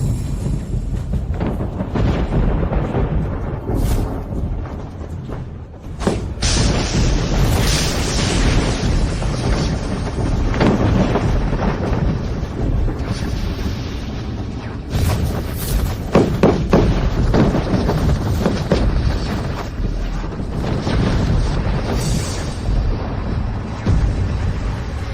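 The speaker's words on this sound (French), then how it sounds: "la vraie puissance de la foudre céleste" Celestial lightning strike in a fantasy battle, a loud continuous rumbling roar with repeated booming bursts and crackling surges swelling over a sustained thunderous din.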